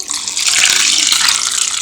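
Water pours steadily from a tap onto washed rice set to soak for dosa batter, a loud, close, continuous rushing splash with no voices.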